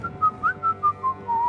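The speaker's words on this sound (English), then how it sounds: "Don't whistle." A short run of whistled notes in Kingdom Come Deliverance 2, clear and close, rising and falling in a brief tuneful phrase with no voices.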